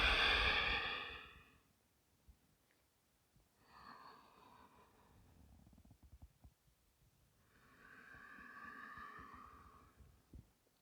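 A slow, long exhale during a gentle stretching yoga flow, soft airy breath fading out, followed by two more quieter, drawn-out breaths with pauses of near silence between them.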